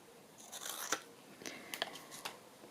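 Scissors snip lace trim off a fabric belly band, a handful of crisp, quiet cuts in an irregular rhythm close by, with no talking.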